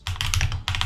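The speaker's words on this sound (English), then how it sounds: "I'm still getting used to typing on these keys." Rapid clattering keystrokes on a computer keyboard, close and fairly loud, in two dense bursts separated by a brief pause, with no voices.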